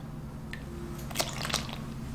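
Almond coconut milk is poured into a measuring cup, giving short wet splashing and trickling bursts over a quiet kitchen hum, close and moderately loud, with no talk.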